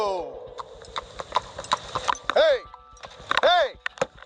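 Horse hooves clip-clopping steadily as an Amish horse and buggy travels along a road, a close, rhythmic clatter with a couple of rising whinny-like calls, while someone shouts over it.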